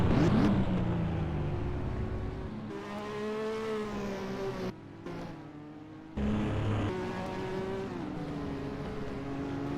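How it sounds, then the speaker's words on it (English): A Renault Formula 1 car in NASCAR Racing 2003 screams past at close range, its high engine whine rising and falling in pitch. The whine briefly cuts out, then returns steadily over a continuous engine drone. "Racing Point now out as that Renault of Ricciardo goes flying past."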